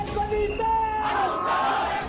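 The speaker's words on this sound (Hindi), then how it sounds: "आजकल बांग्लादेश में ऐसे ही खुलेआम जिहादियों की भीड़ जमा होती है और हिंदुओं के खिलाफ" A crowd of protesters in Bangladesh chants slogans, massed voices rising and falling in sustained calls with some louder bellowed lines, steady and fairly close throughout.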